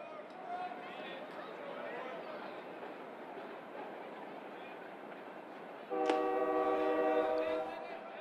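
A long freight train rolls past a college baseball field during a championship game. A steady crowd and ballpark hum runs throughout, then a loud, multi-tone train horn blasts for about two seconds near the end.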